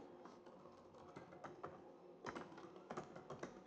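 Keys clatter quietly on a computer keyboard in irregular bursts of tapping as a name is typed.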